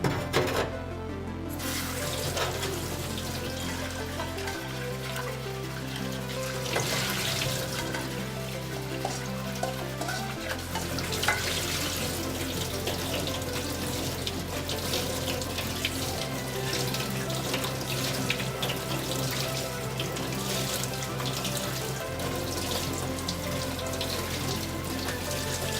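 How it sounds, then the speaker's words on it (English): Running tap water pours steadily over cooked jjolmyeon, chewy Korean cold noodles, being rinsed and flipped by hand in a sink, a constant close splashing stream lasting throughout with no talking. "wash them with running water and flip them using hands"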